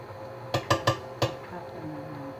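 Peanut butter goes into a mixing bowl for peanut butter cookies, making four distinct clunks and knocks of utensil against bowl in quick succession, followed by quieter kitchen handling noise.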